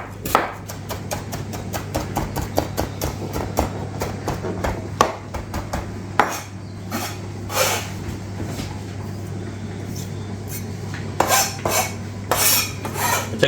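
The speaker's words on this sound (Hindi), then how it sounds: "ये मैंने अनियन, ग्रीन चिल्ली ये मैंने चॉपर में करके तो ये डाल दी है इसमें" Onions and green chilies being chopped in a kitchen food chopper, a quick run of sharp rhythmic blade chops that later slows to scattered louder knocks over a steady low hum.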